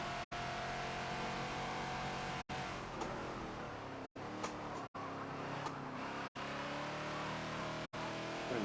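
Ford Falcon XB engine held steadily in third gear through a gentle turn at Homestead Road Circuit in Forza, a continuous loud drone with harmonic whine, broken by brief shift gaps.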